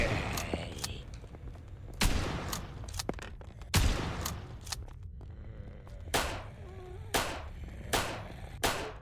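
Gunfire in the horror game Dead Beacon, a series of sharp, loud single shots spaced about a second or two apart, with faint game ambience between them.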